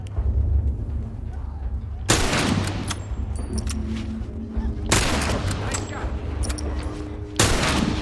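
Rifle and other gunfire from The Last of Us video game, with loud, sharp shots bursting at intervals over a constant din of game noise, while voices talk in the background.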